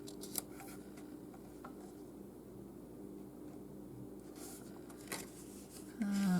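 Scissors snip and slide through paper being trimmed for a miniature Parisian cafe model, a steady close rustling cut lasting several seconds, ending in a few sharper clicks and a brief low hum.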